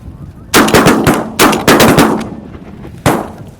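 Several loud, close gunshots from a hunt crack out in uneven bursts, two or three in quick succession, then a pause and a final report, each leaving a short outdoor echo.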